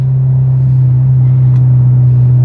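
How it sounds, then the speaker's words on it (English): Inside a manual car without air conditioning driving on a road in Kampot, Cambodia: a constant loud, low engine drone and road rumble, unbroken and alone. "I'm driving in my car."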